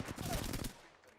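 Gunfire in the battle royale shooter Apex Legends: a short burst of rapid shots, loud and close, that cuts off and fades quickly.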